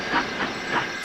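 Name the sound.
steam hiss from a locomotive in Trainz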